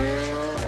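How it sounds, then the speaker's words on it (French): Lamborghini Aventador sports car, a brief loud burst of a high-revving engine with a strong harmonic whine that drops sharply in pitch near the end as the car passes close by. "C'est une Lamborghini Aventador"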